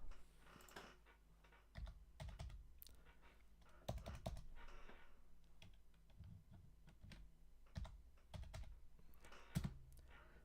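Faint typing on a computer keyboard: irregular bursts of soft key clicks and taps with pauses between them, quiet against a low background hum and no voices.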